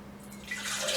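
Hot water poured from a height into a cup for tea makes a brief splashing, trickling stream that swells louder near the end, with a faint steady hum underneath.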